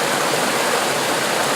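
Steady broadband rush of flowing river water, loud and continuous with no pauses, heard alone without any voices.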